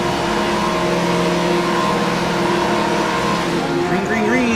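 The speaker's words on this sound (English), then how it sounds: "Cars are revved up, ready to go." GT3 race cars in a racing video game revving on the grid at Hungaroring, a sustained droning engine chorus with rising tones near the end, under a commentator's voice.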